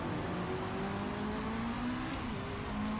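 Race cars from a racing video game roar as the race begins at Phoenix, a dense continuous engine drone with rising whining pitch that holds loud and steady throughout.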